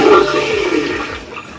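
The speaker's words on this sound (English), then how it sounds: "and then you flush everything out." Electric marine toilet on an Axopar 28TT boat flushing: a loud, close rushing gurgle of water that starts strong and gradually tapers off, with no talking.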